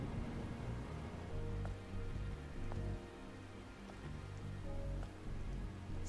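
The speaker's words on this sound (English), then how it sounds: "This must be Earth's rain." Steady rain falls across a ruined city in the video game Stellar Blade, a dense continuous hiss with low rumbling undertones and occasional brief tones from the game's soundtrack, no voices.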